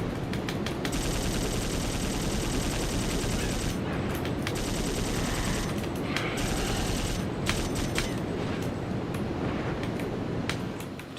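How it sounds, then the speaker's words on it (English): Twin submachine guns in Dino Crisis firing in long rapid bursts, a dense rattling stream of shots with brief pauses between runs, loud and close over continuous game noise, no talking. "Twin submachine guns was a good investment"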